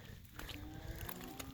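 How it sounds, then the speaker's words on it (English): Weaned cattle bellow in soggy pens, a low drawn-out moo in the distance under a steady noisy outdoor background. "There's still a few of them walking around bellering"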